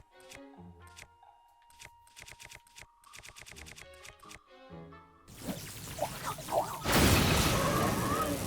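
A lightning strike in The Legend of Zelda: Tears of the Kingdom follows a run of plucked musical notes. It comes as a loud, crackling burst, then a second, even louder blast that roars on to the end.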